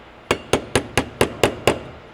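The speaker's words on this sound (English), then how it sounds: "I've got an air hammer, which is nice for me" An air hammer drives a roll pin through a punch into a Gibbz Arms detent handle, striking seven sharp metallic blows at a fast, even rhythm, close and loud, with no talking.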